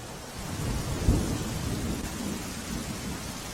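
Heavy rain falls in Gir Gadhada, Gir Somnath, Gujarat, a dense steady roar with a short sharp crack near the start and low thunder rumbling underneath.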